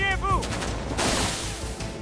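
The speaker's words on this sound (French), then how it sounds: "L'armée tira, encore et encore." Army gunfire in a cinematic battle scene, dense bursts of shots crackling together into a loud fusillade, with a voice talking over the shooting.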